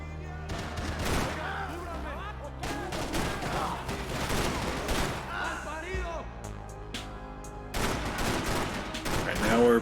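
Gunfire erupts while shooting enemies in Max Payne 3, with dense bursts of loud shots and crashes repeating over several seconds, broken by short lulls, with people talking underneath.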